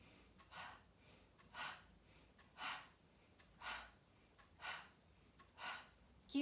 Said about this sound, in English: Inhaling through the nose, out through the mouth.